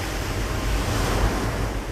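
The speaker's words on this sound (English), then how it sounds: "But the tsunami surging towards them is a monster, peaking at 40 meters." A tsunami wave surges toward the Japanese coast as a continuous, heavy roar of rushing water with deep rumbling and windy noise, loud and unbroken.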